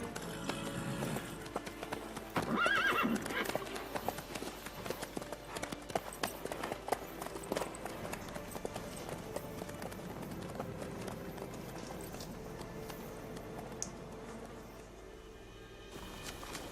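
Horse hooves clop at a run in The Witcher 3 on PC, a rapid steady patter under a busy mix of game ambience and music, moderately distant and never fully clear.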